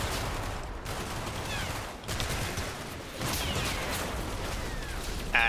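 Dense gunfire rolls on continuously in a war video game, with overlapping volleys and crackling shots, occasional whooshes and a louder burst at the end.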